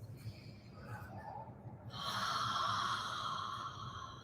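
A yoga practitioner takes slow breaths with audible exhales, a soft inhale followed by a longer, breathy whooshing exhale, close and quiet in a calm room.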